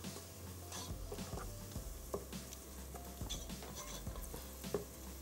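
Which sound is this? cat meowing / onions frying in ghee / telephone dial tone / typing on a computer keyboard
onions frying in ghee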